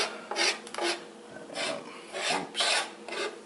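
A knife trims the bumps off a wild puffball mushroom in a series of close, rasping scrapes that come in an uneven rhythm.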